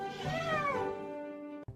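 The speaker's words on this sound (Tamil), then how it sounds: "பூனை, நீங்க என்ன பார்த்தாலே மியாவுன்னு கத்துறது ஏன்?" A cat gives one long, drawn-out meow that rises and then falls, close and clear, with no other voices.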